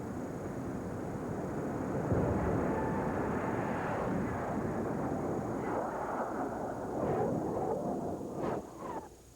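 Jet-powered drag racing car roaring down the strip at the 1985 Stroh's Nationals in Darlington, South Carolina: a sustained loud jet rush and roar that swells then fades as it passes, with crowd noise around.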